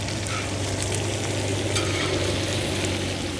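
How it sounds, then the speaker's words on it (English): Chicharrones, pieces of pork, fry in their own melting fat with a dense, continuous sizzle and crackle up close, steady and unbroken with no voices. "So cooking the chicharrones does take some time."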